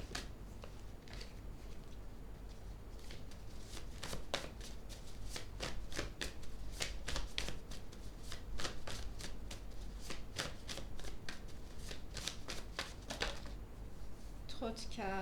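Tarot cards are riffled and shuffled in quick, crisp bursts of snapping and fluttering, repeated through the stretch. They sound close but quiet, with a soft-spoken voice under them and a brief rustle near the end.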